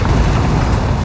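An explosion in the video game Dying Light: The Beast, a loud, deep, rumbling blast that holds a sustained roar for about a second, no talking.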